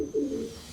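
Pigeons coo from inside an infested attic, a low, rounded murmur that swells briefly and then trails off as a soft, close call.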